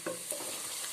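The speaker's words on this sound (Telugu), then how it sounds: "ఆనియన్స్ వేగుతున్నాయి కదా" Chopped onions frying in oil with cumin and turmeric, a close continuous sizzle with a couple of brief stirring knocks, no voices.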